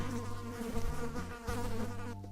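An insect sound effect of continuous, droning buzz with wavering pitch like a fly or bee, loud and close, filling the whole stretch alone without talking.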